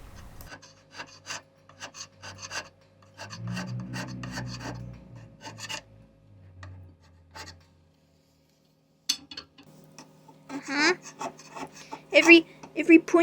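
A hand scraper works a metal surface on a mini lathe, making repeated short rasping strokes, close and fairly quiet, with a pause midway and then a denser run of scrapes.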